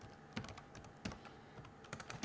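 Clicky keystrokes on a computer keyboard as a command is entered, short bursts of taps in uneven clusters, close and clear with no talking.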